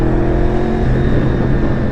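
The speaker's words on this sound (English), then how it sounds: "The V4 sound" A fifth-generation Honda VFR 800 V4 motorcycle engine with an aftermarket exhaust runs in a steady, loud, close drone, with a deep rumbling note and no speech over it.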